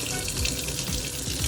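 Water running steadily from a tap fed by a cargo trailer's instant water heater, a loud continuous rushing splash with no pauses.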